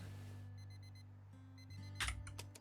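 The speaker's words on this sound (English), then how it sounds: "Alarm clock." Alarm clock ringing inside the House Flipper 2 video game: a quick repeating electronic beeping starts about half a second in, pauses, then resumes over a steady low game hum, with a brief louder clatter near the end.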